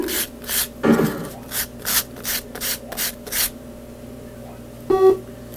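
Legs of a 1985 bootleg SEGA arcade chip, taken from a Teddy Boy Blues board, scrub back and forth on sandpaper in short gritty strokes, about eight in steady rhythm, close up, then a brief beep at the end.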